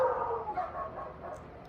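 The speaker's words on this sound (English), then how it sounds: "got a barking war outside with dogs here." Dogs bark and yip outside, a short whining, howling exchange heard at moderate distance.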